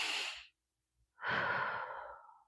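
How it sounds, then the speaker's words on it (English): A person demonstrates a calming breathing technique of two sniffs in through the nose and one breath out: a short, close breathy rush, a brief silent pause, then a longer, steady airy exhale, with no talking. "there's a type of breathing that you could do that's 2 breaths in and 1 breath out"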